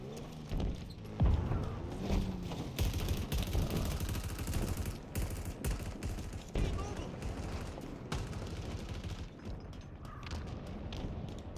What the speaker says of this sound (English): shooting from above